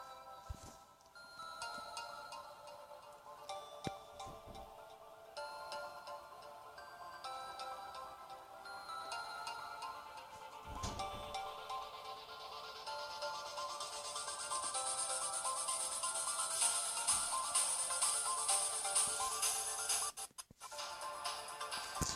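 A song plays as an outro, a quiet tinkly electronic melody with ringtone-like tones and ticking rhythm that builds in brightness over about twenty seconds before a brief dropout near the end.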